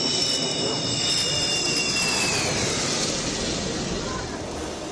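Roaring jet noise as Sukhoi fighter jets land on a highway airstrip on a national highway in Barmer, a loud continuous broadband rumble and whine that fades slightly toward the end.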